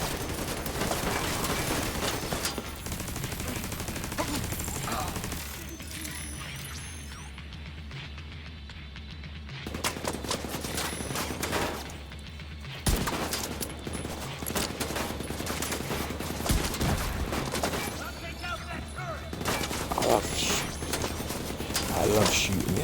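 Gunfire in The Division 2 video game: rapid bursts of automatic shots and mechanical clacking, loud and close, with a quieter lull in the middle before the shooting resumes.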